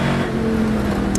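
Classic sports or saloon racing car, a Rover SD1 in the field, driving through Clark Corner at Knockhill circuit, a loud, steady engine drone held close for a brief moment.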